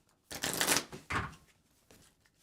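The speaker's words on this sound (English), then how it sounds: "I just started shuffling." A deck of Netrunner cards is shuffled in two fast riffling bursts at close range, followed by a softer rustle as the cards settle, with no talking.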